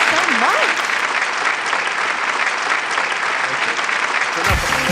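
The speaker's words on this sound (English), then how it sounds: "That applause, we got more applause than I think Mark Russell did." Audience applause fills the room at close range, a steady dense wash of clapping running through the whole stretch with a brief voice near the end.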